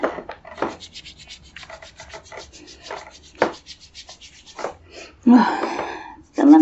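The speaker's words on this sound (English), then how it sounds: "rub it between my hands" Hands rubbing together to work in a small piece of material, with soft dry friction strokes repeated in short bursts under quiet whispered speech that runs throughout.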